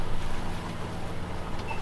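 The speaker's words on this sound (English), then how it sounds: "the engine is still on, but the sails are flogging around a bit" A sailboat's engine drones steadily on the Irish Sea while its sails flog loosely in the wind, a continuous close, broadband rush with no voices.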